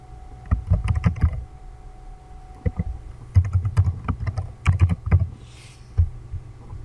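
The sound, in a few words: typing a password on a computer keyboard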